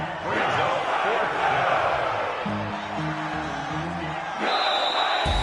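A stadium crowd in a PS4 football video game keeps up a steady, broad roar throughout, with commentator voices speaking over it and the noise swelling briefly near the end.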